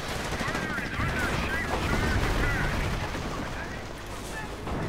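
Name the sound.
heavy machine gun firing in a strategy video game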